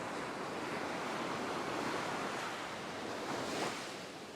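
Offshore westerly wind blowing across a clear-water fishing shoreline, a broad steady roar of gusting air and surf with no voices, holding constant and close for several seconds.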